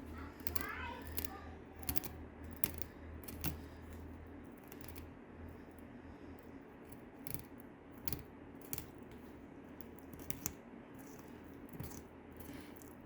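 A knife cuts through the lateral bones of a large trout or salmon being cleaned, making faint, irregular crunching clicks and snips, close and quiet, with soft background noise.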